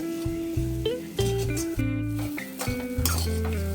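Usili upma stirred in a pan, with busy clinks and scrapes of a utensil against the metal over a loud, steady background of music.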